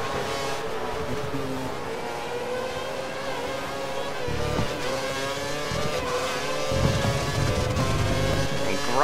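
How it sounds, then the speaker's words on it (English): F1 2013 racing game Sauber race car at the China circuit running over a curb, a continuous loud engine whine with rumbling grinding bursts partway through, steady and close throughout. "Grinding on that curb."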